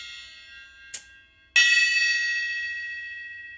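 A gong sound effect plays on a Twitch gong-show stream: after a brief tap, one loud strike blooms and rings out with a long shimmering decay lasting a couple of seconds.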